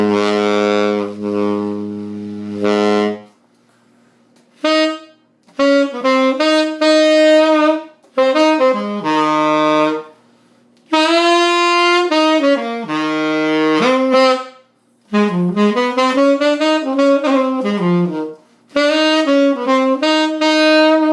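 Tenor saxophone played through a Robusto 8* metal 10M fan mouthpiece, heard as loud, close, full-bodied sustained phrases and runs separated by short pauses, with no accompaniment.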